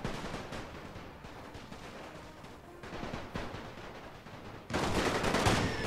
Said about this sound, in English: the artillery came kinda close to our own men